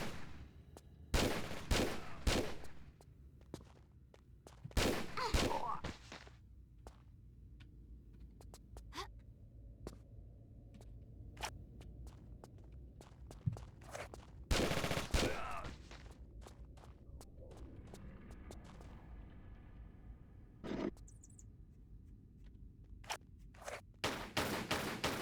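Gunshots ring out in Tomb Raider 4, a handful of sharp, loud bursts spaced irregularly across the stretch, with quieter footsteps and faint game ambience between them.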